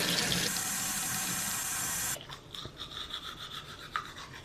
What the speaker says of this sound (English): Time to brush my teeth.